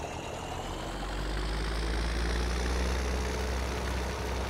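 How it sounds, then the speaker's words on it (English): Ford TW tractor engine idling in a Farming Simulator 2017 mod, a deep steady low rumble with a constant throb, loud and close, running alone without any voices. "Start her up. Now the idle sound is the same"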